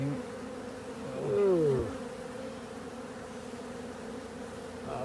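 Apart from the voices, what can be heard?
honey bees buzzing in a hive in a flat roof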